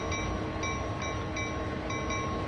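In the game Train Sim World 2, a rotating turntable pushes a locomotive off the track, giving a steady mechanical rumble with a faint regular ticking pattern and no voices.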